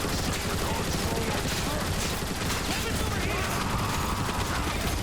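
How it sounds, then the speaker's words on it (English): Sustained, dense turret gunfire in the video game Transformers: War for Cybertron, a loud continuous roar of rapid shots and explosions with a voice shouting over the barrage. "Decepticons, mount those turrets! We'll cut them down!"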